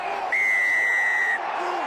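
A rugby league crowd of Hull fans roars after a try, with a long, steady referee's whistle piercing over the noise.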